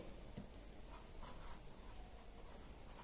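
Chalk or marker strokes on a classroom board during a lesson diagram of an electric cell, faint scratchy rubbing repeated under steady background hiss, with no talk.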